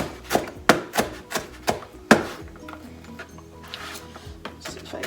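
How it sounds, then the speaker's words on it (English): Knife blade striking a cutting board as ingredients for corn chowder are chopped, about six sharp, evenly spaced chops close up, then softer scraping and lighter cuts. "See if I can get some more of this chopped up a little bit smaller."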